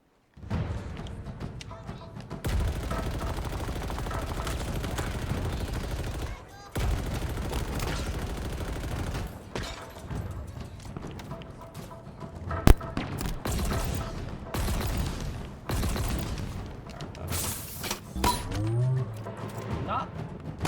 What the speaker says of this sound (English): They're shooting me from behind. Oh, sniper, huh?